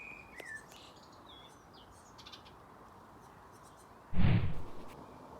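Great tits in a garden give a few faint chirps and short calls early on over quiet background hiss, followed near the end by a brief louder thump or rustle close by.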